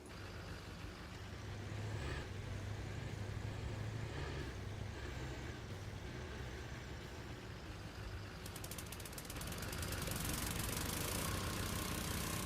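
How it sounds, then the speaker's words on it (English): A small engine in a farming video game mod, set on a Forest River, ND map, runs at a steady idle throughout, with a low droning hum and a brighter rise in the final few seconds. "you can fire up the little engine"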